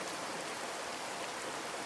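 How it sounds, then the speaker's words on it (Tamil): Outdoor rainfall hisses as a soft, steady wash of drops, faint and even throughout with no other sounds. "மழை இன்னும் கொஞ்சம் வந்துட்டு தான் இருக்குது"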